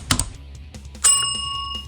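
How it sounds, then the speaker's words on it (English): A notification bell dings once, bright and loud, with a ringing tone that slowly fades, after a few soft clicks at the start. "and ring the notification bell."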